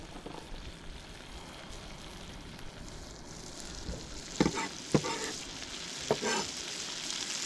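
Garlic, poblano and other vegetables fry in butter in a pan in a van kitchen, a soft steady sizzle with a few sharp stirring clatters near the end, no talk.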